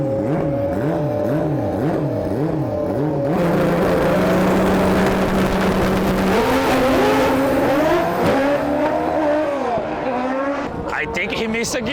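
A drag bike roars at full throttle down the drag strip, its loud, close engine note climbing and dropping through repeated revs and gear shifts over about twelve seconds.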